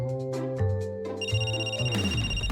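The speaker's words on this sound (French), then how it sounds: "Oh non, mon téléphone!" A mobile phone rings inside a bag, playing a loud, clear melodic ringtone with layered tones that change and build over a couple of seconds, with no talking.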